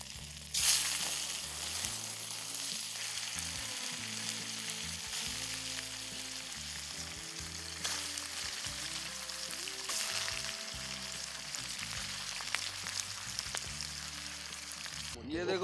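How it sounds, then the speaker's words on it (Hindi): Food sizzles steadily in a small kadhai over a campfire at an overnight camping spot in India, a continuous hissing fry with occasional stirring scrapes throughout. "छोटे कढ़ाई होने की वजह से हम लोग को देखो 3-3 बार करके फ्राई करना पड़ रहा है"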